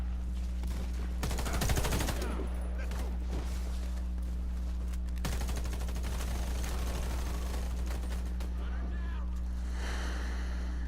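Bursts of gunfire in the Warface military shooter game, with a heavy volley around two seconds and another rattling run near five seconds, over a steady low game hum.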